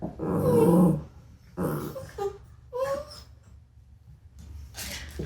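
A pet dog whimpers and yips indoors in a home office, a few close, strained whines and short vocal bursts separated by brief pauses, with no one speaking.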